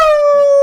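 A person howls like a wolf, imitating the animal with one short, loud, steady sustained tone close up.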